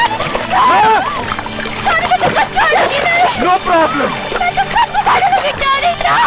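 Water splashing and sloshing in a bathtub, repeated irregular splashes close by, heard under loud speech and background music throughout.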